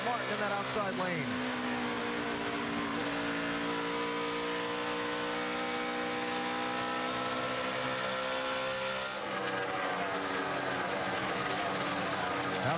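NASCAR stock cars roar around the track at the 2012 Brickyard 400, a dense, steady engine drone with several cars passing close and pitch sweeping as they go by.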